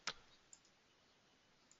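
A computer mouse clicks on an OK button, one sharp, close click at the start followed by a couple of much fainter ticks in a quiet room.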